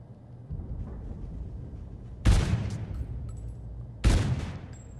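Two sharp bursts of video-game gunfire ring out from a test-fired weapon using a GamerModz Juggernaut 7.0 modded controller, each a loud crack with a decaying tail, spaced about two seconds apart over a low room hum.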